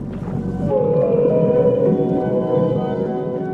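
A humpback whale song in the open ocean: one long, loud, tonal moan that glides and holds for several seconds over a deep rumbling undertone.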